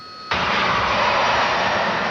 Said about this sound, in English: The Harrier is famous for its vertical takeoff and hovering capability